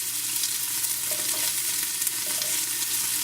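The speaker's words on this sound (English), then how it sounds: "He's putting the vegetables into that hot oil in the pot." Vegetables fry in hot oil in a pot, a loud, close, steady sizzle with faint stirring underneath.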